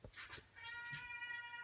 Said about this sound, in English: And there's my cat like always.